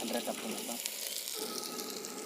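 A garlic and coconut paste fries in hot oil, giving a steady, hissing sizzle that stays fairly quiet and continuous, with faint voices murmuring in the background outdoors.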